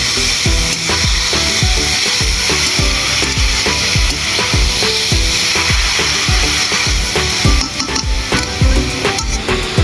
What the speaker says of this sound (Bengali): গাজরটাকে ভালো করে ঘিয়ের সাথে ভেজে নেব।